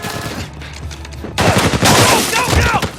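Gunfire breaks out during a shootout escape in the video game Uncharted 4, with a low rumble giving way to loud, dense bursts of shots and impacts that keep going to the end.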